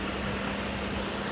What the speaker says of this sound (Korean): 람다 330 엔진인데요